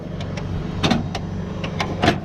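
Drive chain on a potato planter turning a fertilizer box in a farm field, irregular clicking and clanking strokes over a steady mechanical hum, close and moderately loud.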